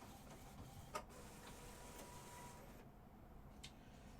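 A sublimation printer runs a print head test, giving a steady mechanical whir with a few faint clicks and ticks spread through it and no voices.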